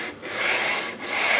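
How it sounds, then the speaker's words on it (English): A radius block rubs back and forth over a carbon fiber guitar neck, giving two close, steady abrasive strokes with a short pause between them, and no voices. "what I'll be doing here is using a radius block"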